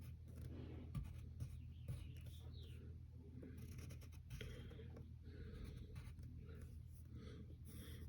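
A pencil sketches on paper while drawing a shirt sleeve: soft, faint scratchy strokes in short irregular bursts, close and quiet against a low background hum.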